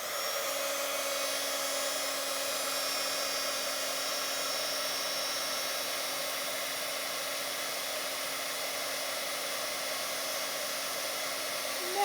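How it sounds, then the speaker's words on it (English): A heat embossing tool blows hot air with a steady, even whirring hiss, running without pause from start to finish at a constant level. "Get my heating tool"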